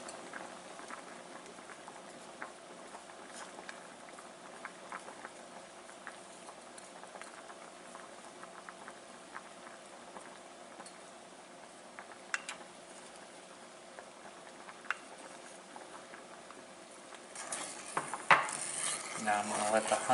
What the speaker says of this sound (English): Now I'm going to let the honey heat up and mix in with this brown sugar and butter.